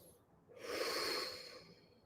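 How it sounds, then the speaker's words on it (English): A person's breath during a relaxation breathing exercise, one soft, airy exhalation swelling and fading over about a second and a half, close and quiet with no talk. "And breathe normally."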